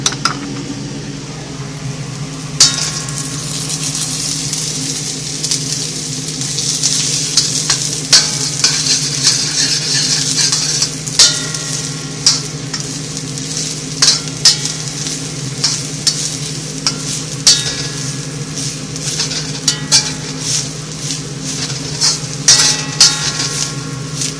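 Grease sizzles and crackles steadily in a wok on an electric stove on medium-high heat while the wok is being seasoned. The frying hiss carries on throughout, with frequent sharp pops and occasional scraping stirs over a low hum.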